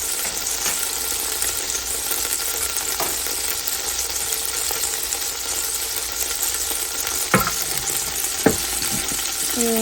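Onion, carrots and celery sizzle steadily in a soup pot for turkey dumpling soup, with a dense, continuous frying hiss, close and loud, and a few light clinks of a utensil against the pot.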